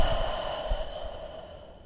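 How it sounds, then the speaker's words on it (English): A long, soft exhale during a relaxing yoga flow, a single breathy sigh that starts fuller and gradually fades away, close and quiet with no talking. "And take one deep inhale and one long exhale"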